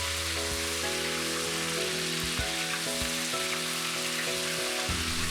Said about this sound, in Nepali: अब यसमा हामी मासु एड गरिदिन्छौँ र मासुलाई पनि हामी मजाले 8-10 मिनेट फ्राई गर्छौँ।